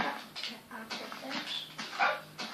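Dogs in the Minecraft video game yip and whimper in short repeated bursts, loud and close, with people talking over them.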